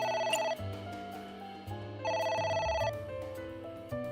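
Telephone ringing in the video game AI: The Somnium Files, two bright electronic ring bursts separated by a short pause, over game music and with no talk.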